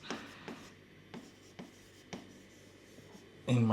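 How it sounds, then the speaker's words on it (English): Pen or marker writing by hand on a surface while explaining chart timeframes, several soft scratchy strokes spaced out with quiet pauses between, close by, ending in a louder bump. "Let me write"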